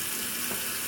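A washing machine on a whites cycle takes in cold water, a steady broadband hiss of rushing inflow, even and continuous with no talk.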